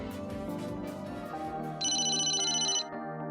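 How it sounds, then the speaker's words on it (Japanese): A mobile phone ringtone rings in the Famicom Detective Club game Emio – The Smiling Man, a bright repeating electronic melody of about one second that starts over background game music. "携帯が鳴ってる。"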